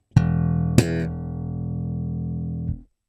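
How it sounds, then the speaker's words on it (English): An undamped open E string on a bass guitar, slapped and left ringing: two sharp attacks close together, then a long steady low tone that sustains loudly for about two seconds before stopping abruptly, with no voices. "the open E string would just keep on ringing out and it'd sound like this."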